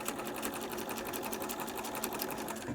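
A sewing machine runs continuously at a fast, even stitching rhythm while joining quilt diamonds for a LeMoyne Star block, close and loud with no pauses.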